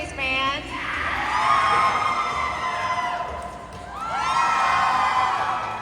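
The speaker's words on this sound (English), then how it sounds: "I got people to cheer twice because getting people to yell by waving your arms around is very fun" A large crowd at an anime convention opening ceremony at Metrocon whoops and cheers in two swelling waves, with shrill yells rising over a roomy background din.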